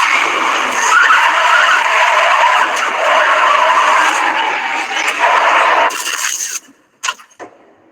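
A car skidding with screeching tires for several seconds, loud and close, ending abruptly with short crash impacts and then near silence.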